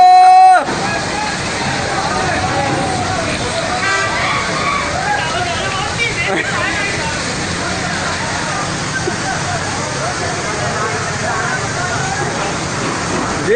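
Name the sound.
strong flow of floodwater in flooded streets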